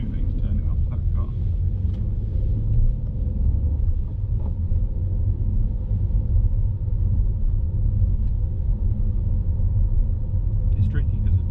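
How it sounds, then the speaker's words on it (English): Steady low engine rumble from a learner driver's car pulling away in first gear onto a main road, continuous and fairly loud throughout with faint road noise above it. "I'm going to do my gas and biting point so I can try and keep the car moving to turn it after that car."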